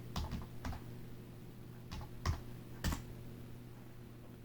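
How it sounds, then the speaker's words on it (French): Search text typed on a computer keyboard, sparse irregular key clicks, a few quick taps then isolated strokes, close and fairly quiet over a low steady hum. "je vais taper texte choisi"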